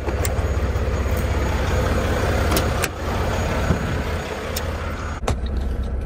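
Semi truck rumbling steadily as it eases out from under a trailer in a yard, with sharp air-brake hisses and releases breaking through the constant close engine drone.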